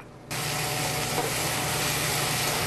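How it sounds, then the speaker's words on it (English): Onions softening in a hot pan with garam masala and tomato paste give off a steady, close sizzle that starts abruptly after a brief quiet moment and holds evenly throughout, with no talking. "You don't want to make the onions red, just a little saute, get them a little soft."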